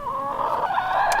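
A Wyandotte hen in the coop gives a short run of close, fairly loud clucks and throaty murmurs, alone without any talking.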